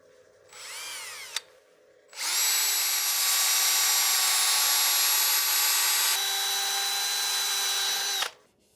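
A wooden platter spins on a lathe, with a brief whine as it starts, then a steady, loud high-pitched hum for several seconds before it winds down, with no talk. 220-grit sandpaper is being used on it.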